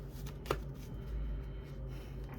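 Tarot cards being shuffled in a quiet room, a soft riffle of stiff cards with one sharper snap early on, close and fairly faint against a low steady hum.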